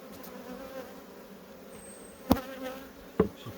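A crowded beehive gives off a soft, continuous droning buzz of many bees, with two sharp wooden knocks breaking through near the end.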